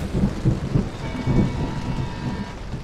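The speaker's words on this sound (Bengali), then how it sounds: "আকাশে মেঘের গড়গড়ানির সাথে এইসব নানান দুশ্চিন্তা মাথায় ভিড় করে আসছে।" Low thunder rumbles overhead while steady rain patters down, with no voices, as the storm keeps rolling in a continuous layered wash.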